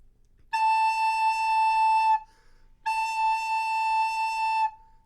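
A clear recorder note A sounds twice, each held steadily for under two seconds with a short silence between them.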